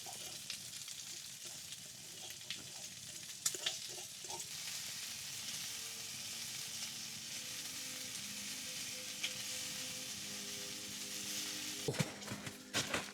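Eggs fry in a pan over a campfire in a snowy Alaska wilderness, a quiet steady sizzle and crackle with occasional clicks and scrapes of stirring, the fire's low hiss beneath.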